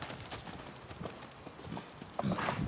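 Steady, rhythmic hoofbeats of a ridden horse moving out at an easy pace on soft ground, close and moderately loud, with faint voices in the background.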